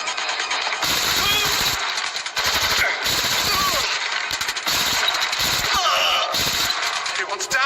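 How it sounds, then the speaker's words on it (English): Rapid bursts of automatic gunfire in Watch Dogs Legion, loud and dense, coming in several sharp volleys separated by brief gaps, with game effects layered over them. "Shots fired!"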